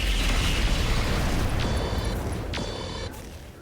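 Mech weapons firing and striking a Wolfhound in RogueTech, a BattleTech video game: a loud, rumbling roar of blasts and impacts that slowly fades, with two brief sharp bursts near the end.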